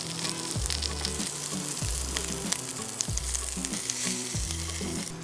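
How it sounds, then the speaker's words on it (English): Lamb chops sear fat-cap side down in a hot oiled pan, giving a loud, steady sizzle and crackle throughout, with faint scraping or stirring sounds underneath. "I'm going to sit them on that fat cap sideways, and they're going to start rendering some of that fat"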